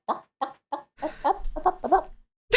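A person imitates a chicken, with four short clucking bursts spaced apart followed by a longer run of squawky, warbling clucks, close and loud.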